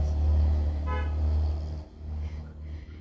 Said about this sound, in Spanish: Sí, siempre que grabo pasan camiones.